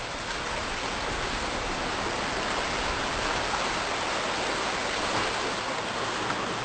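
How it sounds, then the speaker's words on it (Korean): A waterfall beside the path to Gwaneumdo on Ulleungdo pours in a steady, loud, broadband rush of falling water, unbroken and close, with no voices over it. "관음도로 가는 길목에서 만난 폭포"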